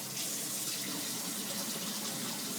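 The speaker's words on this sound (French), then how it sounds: "je vais mettre l'eau chaude dans le bol" Hot water is poured into a bowl in one steady, full stream that hisses and gushes for the whole moment, close by and with no talking.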